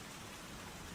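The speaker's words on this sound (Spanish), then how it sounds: "Y mientras la lluvia regresaba, suave y constante" Gentle, steady rain in a forest falls as an even, continuous hiss with no breaks or distinct drops, soft and constant throughout.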